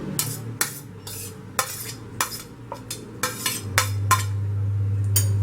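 Chicken fried rice is stirred in a pan, with a utensil repeatedly scraping and clinking against the metal in an uneven rhythm over a low steady sizzle and hum, close up with no talking.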